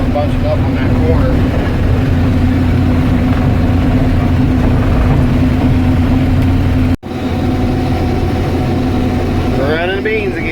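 A combine harvester runs through a field of organic soybeans with a steady, loud engine drone and heavy mechanical rumble, a brief dropout near the end, and a person talking over the machine.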